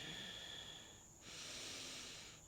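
Soft breathing in and out during a seated yoga forward bend, a long hissy inhale followed by a brief pause and then a steady exhale, close and quiet with no talking.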